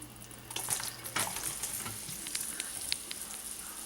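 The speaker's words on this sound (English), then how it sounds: "I am going to add my chopped yellow onion." Chopped yellow onion hits a hot pan for crawfish pie filling and sizzles steadily, a dense crackling hiss with a few louder stir clatters near the start.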